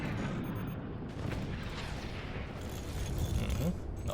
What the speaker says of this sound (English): let's get a little scouting shot out.